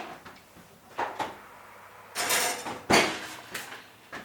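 Kitchen oven door opened and shut while making a roast chicken snack pack: a few light clicks and knocks, then two louder clunking thuds close by, with no talk.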